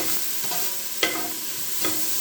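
Mushrooms cooking in oil in a pot give a steady close sizzle, with a few brief stirring scrapes over the top.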